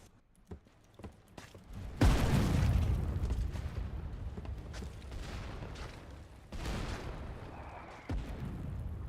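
Howitzer and mortar artillery fire in the video game Foxhole: a loud blast kicks off a dense, rumbling barrage, with a second heavy boom partway through and repeated impacts rolling on without talk.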